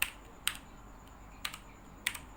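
Sparse keystrokes on a computer keyboard while a file name is entered in a Django project, four or five crisp clicks spaced irregularly over a quiet background with no talking.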